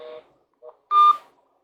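Telephone keypad tones while a call is placed: a few short electronic beeps, then one longer, louder tone, clear and close in an otherwise quiet room with no talking.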